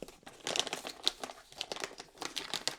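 A bag of medium roast coffee is folded over and clipped shut, giving a close, busy run of crinkling and rustling plastic packaging with sharp crackles scattered throughout and no one talking.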